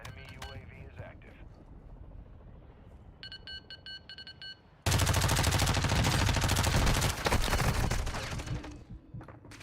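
Gunfire in a Call of Duty DMZ match: after a quieter stretch with beeping, a loud, dense burst of rapid shots erupts and continues to the end.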